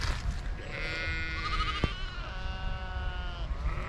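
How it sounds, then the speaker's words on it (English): A ewe bleats loudly and nearby in a long, wavering call while guarding spring lambs in an open upland field, with steady wind noise behind. "That one weren't happy that I was going near to lambs there."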